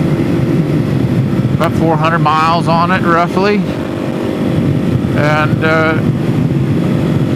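A kickstarted 470 Stroker motorcycle engine cruising at speed, a loud steady drone with rushing wind noise throughout, while someone talks over it in short bursts.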